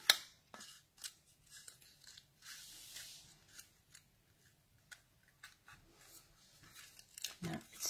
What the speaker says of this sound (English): I'm just going to snip roughly up the centre